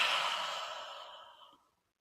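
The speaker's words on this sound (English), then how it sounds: "Take a deep Avesa breath." A single deep breath drawn and released as a long, soft, airy sigh, close and quiet, fading out after about a second and a half.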